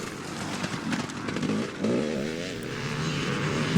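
Honda CR250 Evolution two-stroke motorcycles racing, a blend of several engines revving and buzzing near and far with rising and falling pitch as bikes pass, steady and fairly loud throughout.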